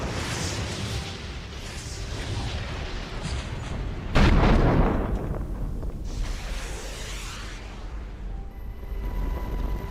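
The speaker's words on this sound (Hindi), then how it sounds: "खामेनेई ने बैलिस्टिक मिसाइलें चला दी।" Ballistic missiles are launched, with deep rumbling blasts. A heavy boom hits sharply midway and then trails into a long roaring decay, over a continuous low rumble, with no voices.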